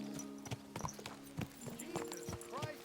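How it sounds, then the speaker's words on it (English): Horse hooves clip-clop in a steady, uneven rhythm in the medieval game Kingdom Come 2, with several distinct hoof strikes close by over a continuous background hum and faint murmuring voices. "The horse is gonna take me somewhere"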